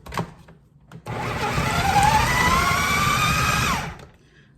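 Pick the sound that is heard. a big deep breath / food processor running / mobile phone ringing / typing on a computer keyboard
food processor running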